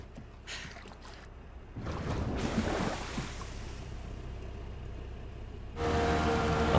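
A boat sailing on water in the game Far Cry 6: a low, steady engine hum with rushing water and wave wash that swells, then a brighter tonal drone joining near the end.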